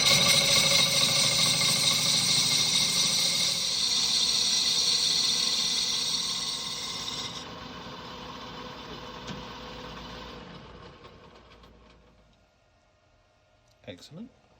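Lathe taking a 40 thou cut on a back plate with an ISCAR carbide insert, a loud steady high-pitched cutting whine over the machine hum that fades as the cut ends, followed by a brief clatter, no talk.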